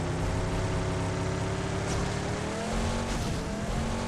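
Vehicle driving in the game PUBG, a steady engine drone with a hint of tire noise running continuously and fairly loud throughout, with no talk over it.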